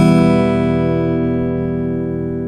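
E minor chord strummed once on a guitar, a loud, full ring sustaining and slowly fading over about two seconds with nothing else heard.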